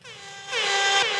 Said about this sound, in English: Let's give Silk an air horn back there.